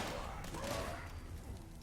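Super mutants firing weapons in Fallout 76, a faint, muffled burst of distant gunfire rolling under the game's ambient noise.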